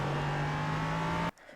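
An LMP3 prototype race car in iRacing, held in second gear at the Long Beach street circuit, gives a steady, loud engine drone that stops abruptly after about a second.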